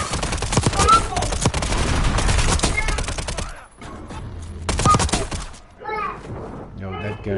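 Gunfire in the shooter game Warzone crackles in dense, rapid bursts of close shots, pauses, then returns in shorter volleys, with excited voices talking and shouting over the fight.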